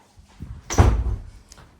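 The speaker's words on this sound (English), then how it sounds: "I'm just going to shut this door here." A household door is pushed shut in one quick, fairly loud thud with a short rattle after it, close by, with no talk.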